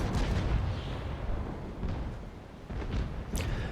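Long guns firing in a broadside from a sailing warship in the naval combat game Naval Action, with heavy rumbling booms rolling over one another, dense low-end and a sharper report near the end.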